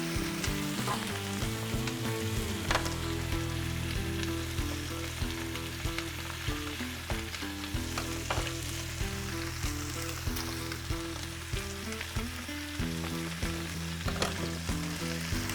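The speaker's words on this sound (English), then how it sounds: "it's gonna cook the rest of the steak and it's gonna give a nice crust on that outside" A steak sears and sizzles in a hot pan as its crust forms, a loud, steady crackling fry with scattered pops and spits running the whole way through, no voices.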